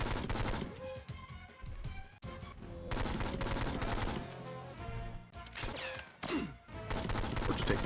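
Gunfire in the 007: Nightfire video game on Game Boy Advance: rapid, repeated shots in continuous bursts with brief pauses, loud and close, over ongoing game music and effects.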